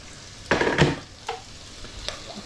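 Peppers frying in a pan on a gas stove, with two loud bursts of sizzling and stirring close by, then fainter scrapes and crackles as the pan quiets.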